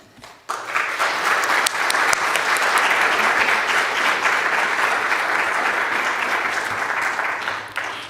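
An audience breaks into sustained applause to welcome a speaker at a church service, the clapping starting suddenly after a brief pause and holding steady and dense for several seconds before tapering off.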